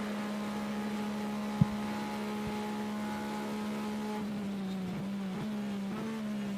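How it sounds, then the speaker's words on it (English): Steady onboard drone of the No. 91 Porsche race car's engine during the 2020 24 Hours of Le Mans, a constant harmonic tone that shifts slightly in pitch near the end, with a brief click partway through. "On board with the 91 Porsche team."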